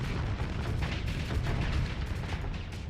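Continuous automatic weapon fire from ships in a StarSector space battle, a dense, unbroken barrage of rapid booming shots and bursts, loud and steady with no voices.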